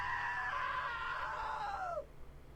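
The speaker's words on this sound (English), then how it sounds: "Now that was a great scream." A shrill, sustained scream from a character in the video game What Remains of Edith Finch, loud and close, holding steady for about two seconds before sliding downward and cutting off, with no talk over it.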